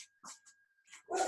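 A female dog barks close by, a few short sharp barks and yips with brief pauses, ending in one louder bark.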